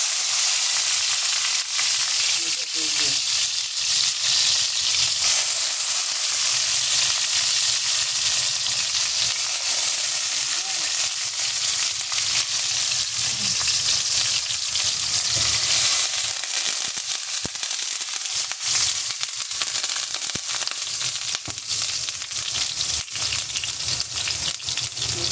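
Squid sizzles and crackles steadily in a hot pan while cooking for squid adobo, a dense, continuous frying hiss held close and loud throughout, with no talking.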